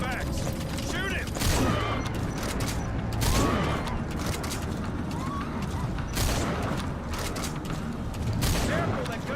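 Gunfire in the video game Metal Gear Solid V: several sharp shots spaced a few seconds apart, ringing over dense, busy game sound with voices underneath.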